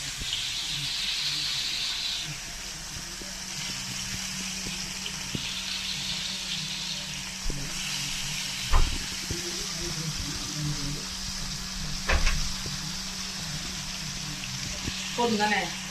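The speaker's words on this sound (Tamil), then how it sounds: "இப்போ வந்து மீன் ஆட் பண்றாங்க. மீன் வறுத்துக்கு போறோம்." Fish frying in hot oil in a home kitchen: a steady, close sizzling hiss that runs throughout, with a few sharp clinks of a utensil against the pan.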